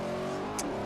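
A 2009 Corvette ZR1 with a V8 revs in the racing game Forza Horizon 4, a short, moderately loud engine note with a brief tire or whoosh accent near the end, no talk.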